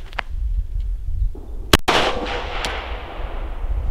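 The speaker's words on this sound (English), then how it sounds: "So if I fire a round, where does the dot go" A single sharp gunshot from a handgun fitted with a red dot optic, loud and close, followed by a brief ringing decay over low background noise.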